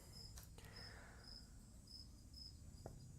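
Crickets in a damp barn give a steady, regular chirping, a thin high trill repeating at a distance with a couple of soft knocks nearby.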